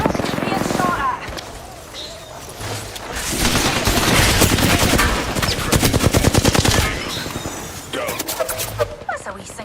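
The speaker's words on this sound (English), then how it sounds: "Being shot at." Rapid bursts of gunfire in Apex Legends, loud and continuous with dense automatic rattling through the middle, heard under a voice talking.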